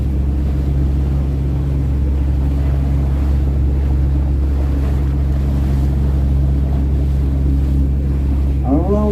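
A motorboat crossing the Anse de Morgat bay in Brittany, a loud, steady engine drone with rushing water and wind buffeting the microphone, and a brief voice right at the end.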